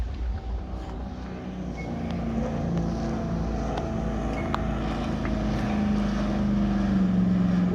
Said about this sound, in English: So here we are at the Bundaberg Rum Powerboat races for day 2.